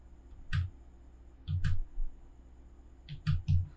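Three close clusters of sharp, quiet mouse clicks on a computer in AutoCAD while picking the copy tool, each a short burst of double clicks with silence between them and no talking.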